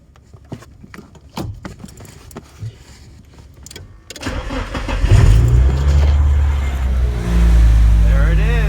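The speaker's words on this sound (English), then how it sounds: "Ready to try and start the 240." A Nissan 240SX is started: a few clicks and key sounds come first, then the starter cranks and the engine catches into a loud, rumbling idle that rises and settles close by.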